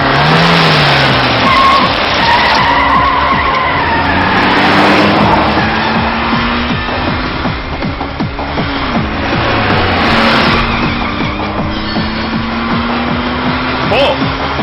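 A car engine revving hard and speeding away, loud and continuous, with shouting voices over it in a tense movie scene.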